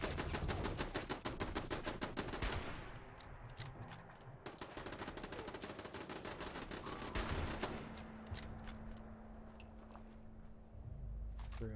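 Rapid automatic gunfire in the video game Fallout 76 rattles in dense bursts, followed by scattered single shots and a lingering hum, loud and close throughout.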